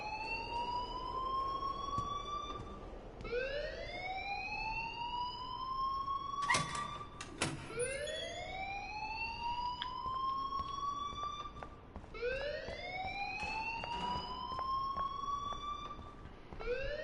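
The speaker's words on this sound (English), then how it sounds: "please turn off that alarm since that's your job" A wailing siren-style alarm rises in repeated sweeping cycles in the game Life is Strange, loud and steady with a couple of sharp knocks midway.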